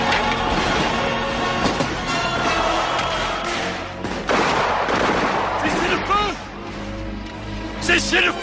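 Musket volley in a historical battle scene at a besieged fortress, a burst of overlapping gunshots and rolling crackle with thuds, mixed with shouting voices and battle noise.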